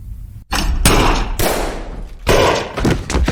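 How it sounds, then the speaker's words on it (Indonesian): Pistols fired by participants in a Russian roulette game: several loud, close, heavy bangs separated by short gaps, each with a brief dense tail. "Akhirnya, lampu pun menyala dan semua peserta langsung menembak."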